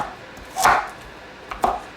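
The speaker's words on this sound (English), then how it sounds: "Alright, so now for the carrots. Again, gonna chop these pretty" A knife chopping carrots on a cutting board gives two crisp, close strikes about a second apart over a low room hum.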